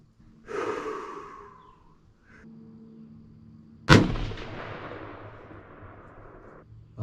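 A single sharp rifle shot cracks loudly at the range while a scope is being sighted in, trailing into a long decaying echo, preceded by close breathing.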